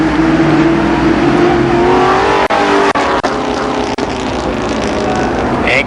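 Stock cars roar together on a restart at Columbus Motor Speedway during the 1992 Firecracker Championship, a dense, loud, continuous engine drone with a steady low tone and a few brief dropouts, no voices over it.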